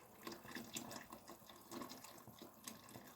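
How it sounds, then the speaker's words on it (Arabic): Water splashes and trickles into a cooking pot for Moroccan barley soup, irregular pouring gurgles heard faintly and fairly close, with no talking. "انا ندير هذا الماء كامل"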